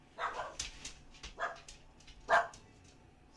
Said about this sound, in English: Something got my dog started.